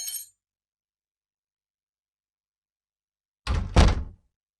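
A door thumps shut with a clinking latch rattle in a Tamil romantic film, one brief solid knock-and-clatter after a long silence, close and without talk.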